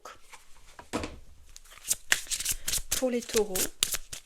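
Oracle cards being shuffled in a riffle of crisp papery bursts, with someone speaking French over them.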